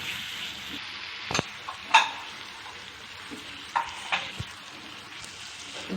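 Freshly crushed ginger and garlic fry in hot oil for a pepper egg masala, giving a steady soft sizzle with a few sharp stirring clinks and spatters scattered throughout.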